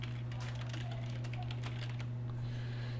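Soft keystrokes tap on a computer keyboard while a name is typed during an Ubuntu 13.10 installation, with quiet irregular clicks over a steady electrical hum.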